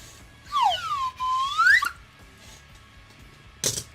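A whistle blown by a streamer during an MTG Arena community night, one sliding shrill tone that dips and rises over about a second and a half, followed by a short sharp burst near the end.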